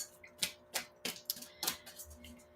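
Tarot cards being shuffled by hand, a series of short crisp riffling snaps and flicks in an irregular rhythm, close and fairly quiet, with no talking.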